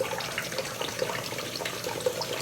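Running water splashes and trickles steadily over a wet hand beside a shaving brush being lathered, close and continuous, with no talking.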